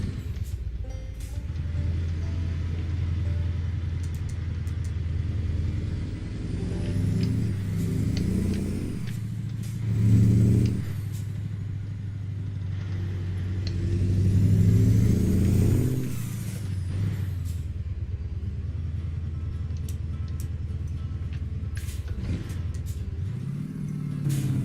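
A Mack Superliner V8 truck engine driving through the Sierra Nevada in American Truck Simulator, a loud continuous low drone that swells twice as it revs, with gear changes and a brief hiss near the end.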